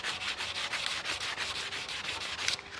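Surfacer being sanded by hand on a 1932 Ford dash, a steady back-and-forth rubbing rasp in quick regular strokes, close but soft, with no talking.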